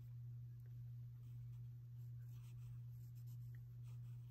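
A pencil draws lines along the edge of a card, giving a faint, steady scratching with light strokes over a constant low electrical hum.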